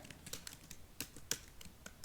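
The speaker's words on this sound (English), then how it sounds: "sorry for my poor typing" Quick, uneven clicks of a computer keyboard as someone types, the keystrokes close and fairly quiet, with brief pauses between bursts.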